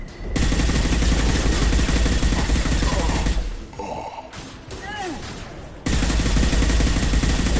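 Heavy automatic gunfire in the video game Mass Effect 2, loud continuous bursts that drop away mid-clip to a quieter pause with a few sharp sounds, then resume at full intensity.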